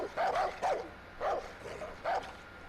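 A dog barks in the video game Far Cry 5, four short yapping barks in an uneven rhythm, moderately loud and close with a slightly whiny edge.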